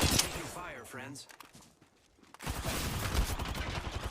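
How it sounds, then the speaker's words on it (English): Gunfire bursts in the Tomb Raider video game, dense rapid shots at the start and again after a short lull, with a voice speaking briefly in between. "Taking fire, friends."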